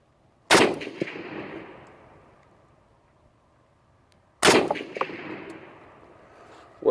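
Two loud, sharp gunshots from an old used Romanian SKS rifle fired outdoors at a target, each cracking close by and followed by a long echoing tail, spaced about four seconds apart.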